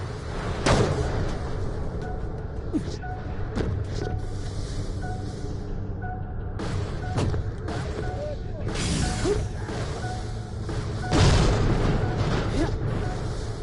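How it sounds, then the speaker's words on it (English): A hydraulic pump exploding in Borderlands, with heavy booming blasts landing at uneven intervals over a constant rumbling background of machinery and debris. "I'd stand well clear of that hydraulic pump if I were you. Without that blow, perhaps I should have mentioned the potential for an explosion."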